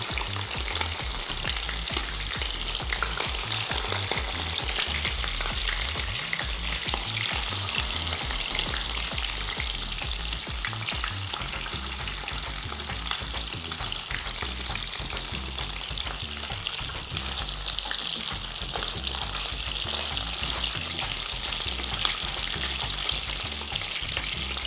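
Fish pieces frying in oil for a Telugu fish curry, chepala pulusu, a steady close sizzle with constant fine crackling and spattering that holds throughout, with no talking.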